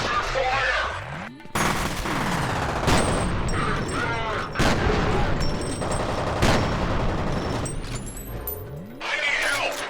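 Dense bursts of video-game gunfire in the shooter F.E.A.R. Perseus Mandate, rapid automatic volleys and heavy booms stacked over one another almost without pause, loud and close, with brief gaps between clusters.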